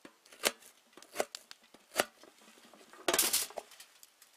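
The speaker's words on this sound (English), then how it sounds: "chop up the red onion." Knife chopping a red onion on a board at a campsite, three sharp evenly spaced thunks followed by a quick flurry of rapid cuts, close and alone.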